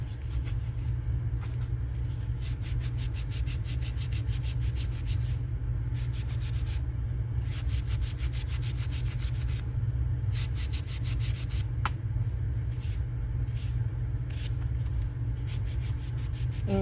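A sander works steadily over a Resin-Crete surface, a continuous close rubbing drone with a low hum running the whole time and brief lighter gaps where the pad shifts.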